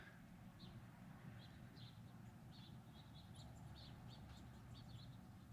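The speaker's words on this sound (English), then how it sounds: "Oh, and more chirping." Faint birds chirping in the distance, short high tweets repeating irregularly over a steady low outdoor rumble of street ambience.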